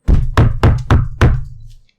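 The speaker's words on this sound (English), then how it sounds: "So, there is a knock on the door." Five firm knocks on a door, close and loud in a quick uneven rhythm with a short pause before the last, followed by silence and no talking.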